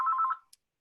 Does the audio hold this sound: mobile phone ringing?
yes